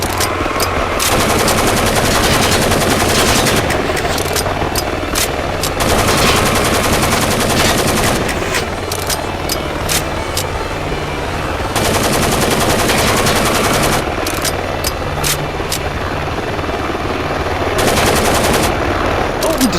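Rapid bursts of automatic gunfire from a Driver: San Francisco shootout, loud and sustained, with clusters of shots and brief lulls running throughout.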